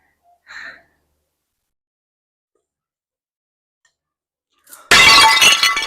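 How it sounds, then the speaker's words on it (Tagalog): A drinking glass shatters loudly in a sudden crash of breaking shards, following a long quiet stretch broken only by a brief soft gasp-like sound. "Hindi ko po sinasadyang mabasag yung baso nyo."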